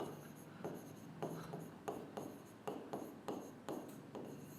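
A formula is written by hand in a string of rhythmic scratchy strokes that come in regular bursts about every half second, close and clear with no speech over them.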